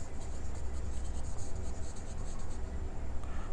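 A pen or marker scratches steadily across a surface during a computer lesson, giving continuous rhythmic scribbling strokes at close range with no talk.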